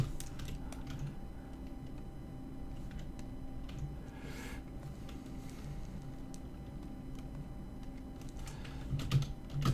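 Computer keyboard keys tapped in a steady, rapid stream of light plastic clicks at close range, the period and comma keys pressed repeatedly over a faint background hum, with no talking.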